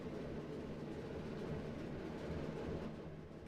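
A diesel locomotive in the Train Sim World 4 game stands at Paddington, giving off a low, steady rumble with faint mechanical hum, quiet and continuous, with no one talking.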